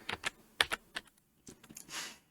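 Computer keyboard keys are pressed in quick, clicky taps, one at a time and in short runs, close and fairly quiet, with a softer rustle near the end.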